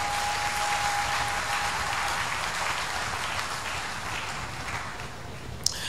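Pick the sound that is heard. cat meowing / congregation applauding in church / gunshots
congregation applauding in church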